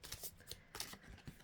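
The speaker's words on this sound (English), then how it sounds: "These cards are so big I have to shuffle them that way." Large oversized tarot cards are shuffled by hand in short, soft riffling bursts and slaps, several quick papery flutters spaced unevenly, close but quiet with no voices.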